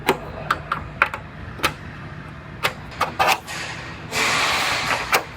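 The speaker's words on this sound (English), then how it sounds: "Then I'm gonna scribe my cut line." A cut line is scribed on a Toyota Tundra truck's rocker panel: sharp, scattered metallic ticks and scratches, then a longer close scraping stroke near the end.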